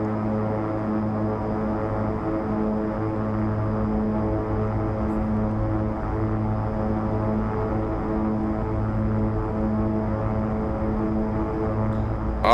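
A Beechcraft King Air 350 turboprop in X-Plane 11 taxis with a steady, loud engine drone, its layered tonal hum unchanging throughout until a small click at the very end.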